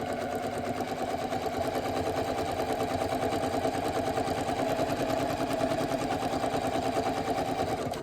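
Sewing machine running a dense satin zigzag stitch for monogram and appliqué work, a steady fast mechanical whirring chatter that holds unbroken and close throughout with no talking.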